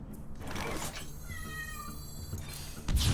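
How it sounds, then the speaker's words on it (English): A cat meows at a door, a drawn-out mewing cry heard faintly in the middle of a quiet room, with a louder clatter at the end. "that cat meows at the door until she's fed every day"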